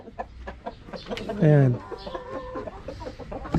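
Rhode Island Red chickens cluck in a homemade coop: one loud, close, drawn-out cluck stands out among scattered quieter clucks, and someone speaks briefly.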